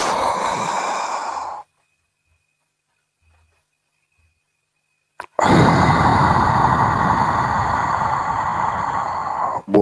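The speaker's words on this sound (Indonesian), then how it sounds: "Kalau sudah engap, buang nafasnya di hidung." Forceful breath pushed out through the nose during a dhikr breathing exercise, a long rushing exhale heard close up, then several seconds of near silence before a second sustained nasal exhale.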